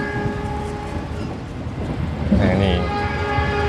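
Fajar Utama Jogja passenger train passing close by, a loud steady rumble of wheels and carriages with a rising horn-like tone, a voice speaking briefly over it.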